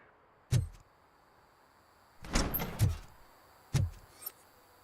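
A door in RoboCop: Rogue City opens with a few sharp mechanical thuds and a longer sliding whoosh in between. The sounds are moderately loud and close, with quiet pauses between them.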